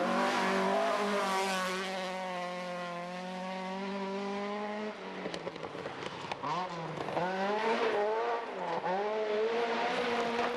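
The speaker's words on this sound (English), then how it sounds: "Murray Grierson in his Opel Kadett 400" An Opel Kadett 400 rally car races along a stage in the 1989 Scottish Rally Championship, its engine holding a loud sustained note before revving hard through rapid gear changes with crackles and pops.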